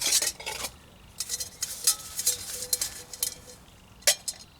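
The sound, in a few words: camping burner being taken out and handled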